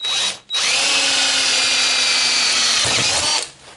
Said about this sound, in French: je le mets dans un étau. Et je vais le percer bien au centre.